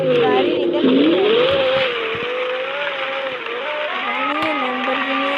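A Lamborghini roars through a driving video game, its engine note rising and dipping steadily as it speeds along, with someone talking over it.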